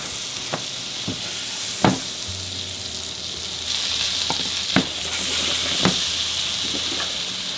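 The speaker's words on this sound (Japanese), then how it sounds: "アロゼっていうのは焼き油をこう肉にかけながら、乾燥しないように優しく火を入れていくような感じです" Lamb sizzles steadily in a pan of butter and olive oil with rosemary and thyme while being basted, a constant frying hiss broken by a few sharp clinks of a spoon against the pan.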